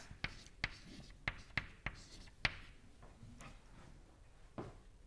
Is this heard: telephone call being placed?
no